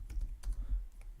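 Computer keyboard typing in quick irregular bursts of clicky keystrokes, close and clear, with no talking.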